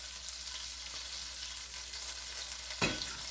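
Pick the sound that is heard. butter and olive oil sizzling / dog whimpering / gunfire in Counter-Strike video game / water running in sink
butter and olive oil sizzling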